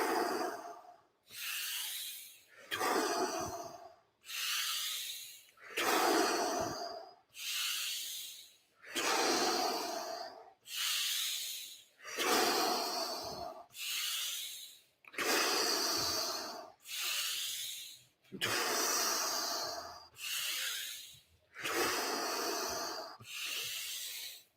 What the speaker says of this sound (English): Alkaline breathing in through the nose, out through the mouth